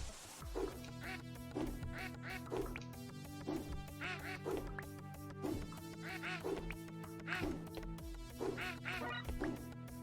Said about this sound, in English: I like his little quack every time he jumps.